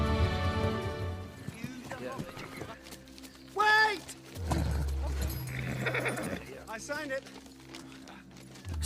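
Ponies' hooves clip-clop in a steady rhythm as dwarves ride with Bilbo through The Hobbit, heard under narration and music with a short whinny partway through.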